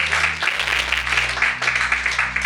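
A church congregation claps and cheers to acclaim the Lord during a French-language sermon. Dense, continuous applause fills the room and stays loud and steady throughout.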